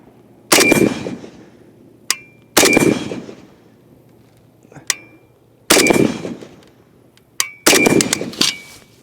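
Loud 7.62 rifle shots crack outdoors at uneven intervals, each followed by a bright metallic ring from steel targets, with a few sharp separate pings between the blasts and no talking.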